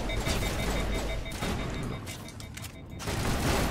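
Gunfire from a sniper rifle in the Mass Effect video game, dense repeated blasts close up with a brief lull midway before the firing resumes loudly.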